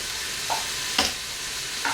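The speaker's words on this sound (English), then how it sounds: "So I have 4 cloves of garlic. I'm going to smash them" Three sharp, separate thuds as four fresh garlic cloves are smashed on a kitchen counter, each a quick, close impact with pauses between.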